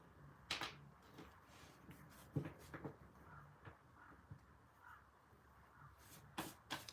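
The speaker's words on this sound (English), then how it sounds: "Crow buddies in the background." Crows caw faintly in the background outdoors, scattered calls spread across several seconds and mixed with sharp knocks and clicks, all quiet, with no one talking.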